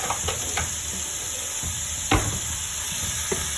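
Bacon fries in a pan toward golden brown, a steady close sizzle and hiss broken by a few sharp scrapes and pops as it is stirred.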